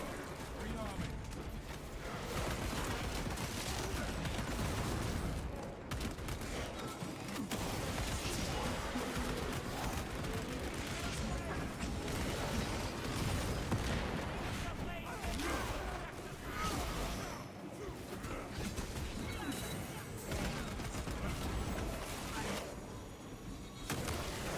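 Automatic rifle fire from an auto bull rifle in a video game, heard as dense, continuous rattling bursts mixed with game effects, running under steady talking throughout.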